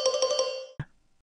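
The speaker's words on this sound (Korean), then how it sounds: "남편 태수의 핸드폰이 울렸어요" A husband's mobile phone rings nearby, with a few quick bright chiming pulses that cut off, followed by a short single tone and then silence.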